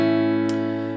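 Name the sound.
acoustic guitar in open G tuning with capo on 2nd fret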